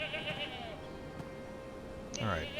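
Sheep bleating in a video game: wavering bleats sit over a busy background, with people talking over them.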